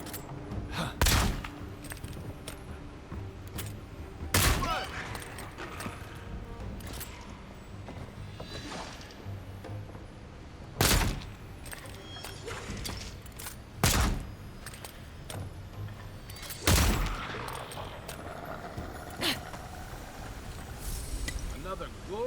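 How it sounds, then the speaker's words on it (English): Guns firing in the video game Avowed: several sharp, loud shots at irregular intervals over a busy backdrop of game sounds and music, with thuds and mechanical clatter between them. "The guns in this game are pretty fun."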